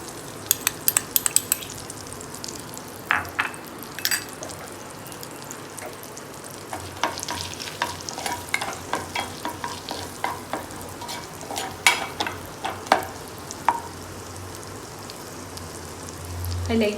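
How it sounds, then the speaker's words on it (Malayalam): Garlic fries in hot butter in a pan for potato garlic balls, a steady close sizzle and crackle with sharp spatula clinks and stirring scrapes scattered throughout. "ബട്ടർ ഒന്ന് ചൂടാകുമ്പോൾ അതിലേക്ക് ഗാർലിക്ക് ഇട്ട് കൊടുക്കാം"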